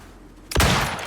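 Sudden burst of video game weapon fire aimed at a spaceship, a loud blast erupting after a half-second of quiet hum and sustaining as a dense roar to the end, with no voices.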